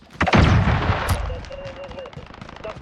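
Explosions from an enemy cruise missile strike in Call of Duty Modern Warfare hit in a loud, heavy boom that rumbles and fades, with game voice and alert tones over the tail.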